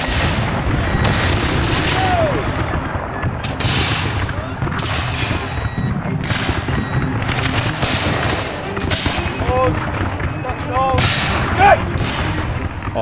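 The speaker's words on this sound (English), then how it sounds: "colonial militia intercepted them, opening fire on the advancing troops" Musket volleys from Revolutionary War era colonial militia, a dense crackle of overlapping shots and booms at varied distances, with a voice talking over the continuous gunfire.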